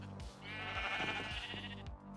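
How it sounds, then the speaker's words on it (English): Minecraft sheep on a farm below the decks of a pirate ship bleat in several quavering calls, fairly faint and overlapping in a steady stream, with no speech. "We have a sheep farm built below the decks of our pirate ship."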